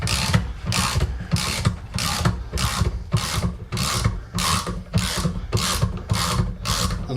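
Rapid ratcheting clicks from a ratchet tightening a motorcycle bearing puller, repeating in steady bursts of strokes close up and fairly loud, with a metallic grinding rasp and no talk.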